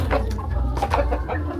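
Several chickens clucking close by in short bursts, a few overlapping calls over a low rumbling background.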